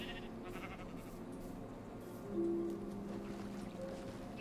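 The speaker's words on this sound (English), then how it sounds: "At this point, I had like 5 sheep following me" Minecraft sheep give a few short bleats at low to moderate loudness over a quiet ambient background, with one clearer bleat near the middle.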